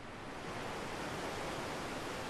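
A waterfall beside the Tat Kwang Si bear sanctuary in northern Laos roars as a steady, dense rush of falling water, even and moderately loud throughout, with no voices.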